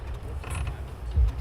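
Wooden floorboards creak underfoot, a couple of short, low groans with a louder creak near the end, heard alone with no talking.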